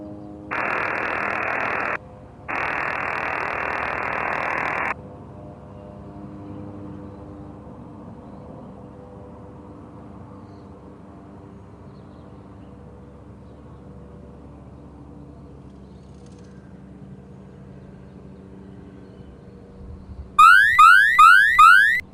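An air raid alert siren in northern Israel blares in two steady bursts, then a long quieter stretch of low background noise, ending with a loud, rapidly warbling electronic alarm tone.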